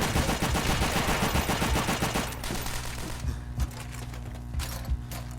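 Machine gun fire in a PS3 video game pours out in dense rapid bursts that are loud and continuous, then give way to scattered single shots and mechanical clicks.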